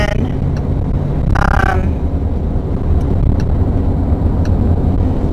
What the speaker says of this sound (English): I've got a car by me.